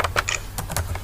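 Quick keystrokes on a computer keyboard, several crisp clicks in an uneven burst, close up and with no voices.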